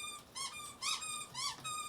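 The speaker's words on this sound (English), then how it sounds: "So if you hear the squeaking, that's what that's from the toy that they got for today's" A squeaky dog toy from a Bark advent calendar squeezed three times in a row, each a bright, rising-and-falling squeal with short pauses between, close and clear with no talking.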